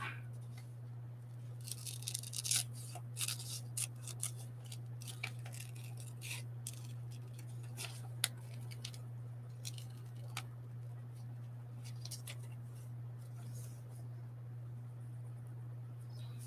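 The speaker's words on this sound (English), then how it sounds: "I'm going to fussy cut her out" Scissors fussy cut a paper image in small, quiet snips and crisp clicks, irregular and close, over a steady low electrical hum.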